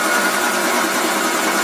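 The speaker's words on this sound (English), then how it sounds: "It's a compressor room." An air compressor with a freshly rebuilt head runs in a compressor room, a steady, dense mechanical whir and hiss that holds at constant loudness throughout, with no voices.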